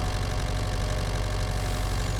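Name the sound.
tractor engine from the video game Farming Simulator 25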